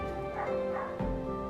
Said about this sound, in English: my dogs are just going to bark, bark, bark, bark, bark, because someone is out there fixing